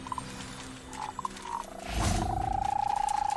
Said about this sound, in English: A bunch of giant purple toads.